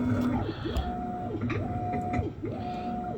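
Whirlpool 2-in-1 washer with removable agitator running, a steady mechanical whir with repeating rising and falling motor tones in a cycle about every second.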